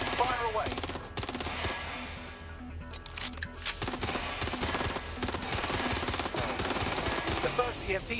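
Rapid automatic gunfire and sharp shots from the Watch Dogs: Legion video game, loud and dense bursts rattling almost continuously, with occasional voices mixed in.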